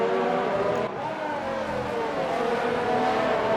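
F1 2019 racing game cars circuit the Russian GP in a close pack at the end of the first lap, a steady whining engine drone with shifting pitch continuing throughout, with a faint voice underneath.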